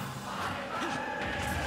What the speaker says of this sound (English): You hear the Pyra Mythra chants from the in-game crowd.